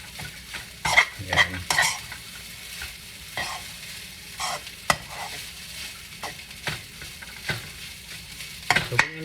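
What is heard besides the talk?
stir-frying chili garlic fried rice in a pan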